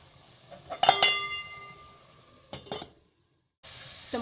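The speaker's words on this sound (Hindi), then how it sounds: "अभी मैं इसको थोड़ी देर के लिए कवर कर देती हूँ ताकि टमाटर बिल्कुल सॉफ्ट हो जाए।" A lid is set over a cooking pot of tomatoes and masala for mutton liver, giving a sharp metallic clatter with ringing tones, then a few softer knocks and a brief silence.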